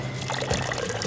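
Cooking oil pours into a mixing bowl of cupcake batter mix, giving a short, soft trickling stream close by, with no voices.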